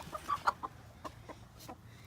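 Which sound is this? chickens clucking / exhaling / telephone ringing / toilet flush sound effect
chickens clucking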